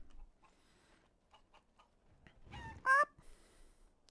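A chicken in the Dragon Age video game lets out one short, loud, squawking cluck near the end, after quieter ticking and tapping sounds.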